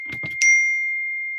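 A phone notification ding, a single bright chime that rings out clearly and sustains as a long fading tone after a brief murmur of speech.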